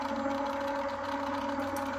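An AccuQuilt die cutting machine rolls fabric and a ric rac die through its rollers, giving a steady, continuous mechanical hum with a fixed tone, close and even, with no voices.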